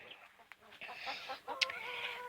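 A broody hen on a homestead giving low, irregular clucks and murmurs up close, with a brief sharper squawk partway through and faint background sounds.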